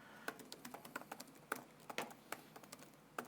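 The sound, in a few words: typing on a computer keyboard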